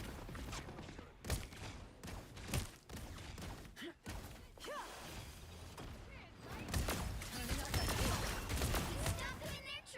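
Call of Duty: Vanguard gunfire erupts in bursts, with sharp shots, thuds and mechanical clatter against a busy game background, while a voice talks over parts of the action.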